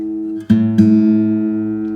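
A guitar's A string rings in sustained harmonic tones, with two fresh plucks re-striking the note about a quarter second apart, then a long steady ring with faint wavering, alone and close.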